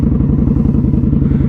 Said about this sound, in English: this bike is plenty loud